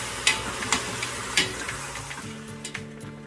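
Beef searing in a hot pan, a steady loud sizzle with several sharp scraping stirs as the meat is turned, close and continuous with no talk.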